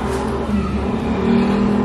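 A car engine idling or revving steadily close by, a smooth continuous hum that rises slightly toward the end, as a vehicle arrives to pick up a group.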